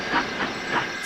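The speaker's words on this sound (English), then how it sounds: "hid himself in a cloud of steam" Steam hissing from a locomotive in a Trainz railway simulation, a steady broadband hiss with gentle swells throughout, fairly loud and close with no voices.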